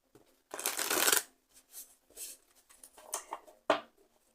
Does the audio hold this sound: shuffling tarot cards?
yes